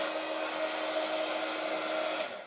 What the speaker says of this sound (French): je passe un coup de heat gun pour sécher un peu plus vite